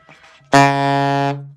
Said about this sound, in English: Okay, low B flat. Sounds like this,